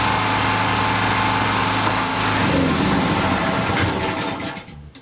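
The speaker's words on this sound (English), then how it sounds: "let me turn the generator off." A petrol generator runs steadily at a stone cottage restoration site, a loud continuous engine drone with high whine that cuts out and fades to quiet at the end.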